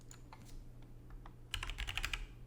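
Keys on a computer keyboard clack sparsely at first, then a quick close burst of typing rattles out a short command at a Linux command line.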